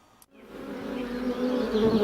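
Honey bees (Apis) buzz in a dense, steady drone that swells in after a brief pause and stays loud and close.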